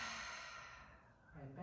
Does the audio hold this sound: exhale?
yes